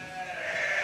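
A ewe at lambing time gives one sustained bleat, close and clear, with a little background noise underneath.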